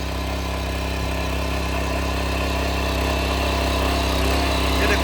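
A new farm machine's engine runs steadily at idle, a loud, continuous mechanical drone with a constant low hum and no pauses, heard alone without voices.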